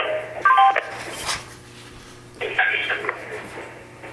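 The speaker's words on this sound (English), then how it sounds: "We're getting lots of beeping going on here" Electronic phone beeps as callers join a council meeting conference line, two short clusters of tones over a quiet, hollow line with faint background talk.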